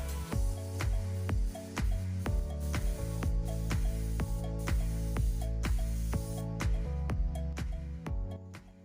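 An airbrush sprays epoxy primer paint in a steady hiss, with regular clicking pulses and a low hum running underneath, close and fairly quiet.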